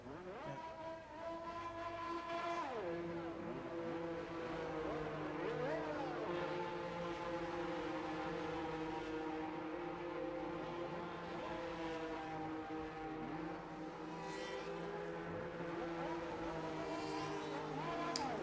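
Race cars in F1 25 at the British round, a dense layered engine drone with overlapping revving and pitch sweeps as several cars pass, steady and loud throughout with no talk.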